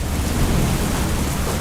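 Heavy, torrential rain in Gujarat pours as a steady, dense roar of broadband noise with deep low rumble, constant and loud throughout with no voices.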